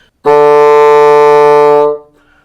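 One long, steady bassoon tone on the note D starts abruptly after a short silence, holds evenly at full strength, then fades out.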